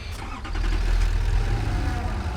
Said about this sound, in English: let's go down there with the tractor